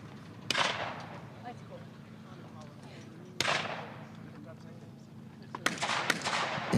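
Shotgun blasts at sporting clays targets during a competition, three sharp reports spaced a few seconds apart over low background noise and soft talk.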